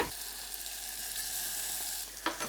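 Tomato puree sizzling steadily in a hot pan with softened onions and garlic, a continuous close hiss of frying with a brief stirring scrape near the end and no voices.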